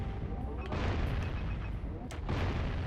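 Bombs blow up a cluster of boxes in the Jak & Daxter video game, a dense run of booming blasts and crackling bursts layered over constant game noise, with sharper hits near the start and again past two seconds.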